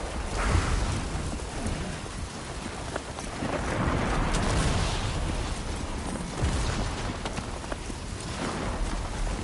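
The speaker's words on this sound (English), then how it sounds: "this storm is really messing me up" Heavy rain pours without a break during a thunderstorm in the video game Death Stranding 2, with low rumbles of thunder rolling under the dense hiss. No voices are heard.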